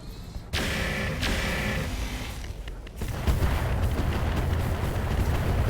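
Heavy mech weapon fire in the BattleTech Roguetech mod booms out in repeated loud blasts and rumbling volleys over a continuous battle din, with no talk.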